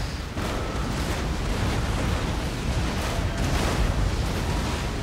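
A ship of the line firing its cannon broadside in Napoleon Total War, a dense, continuous roar of overlapping booming shots that rolls on without pause for the whole stretch.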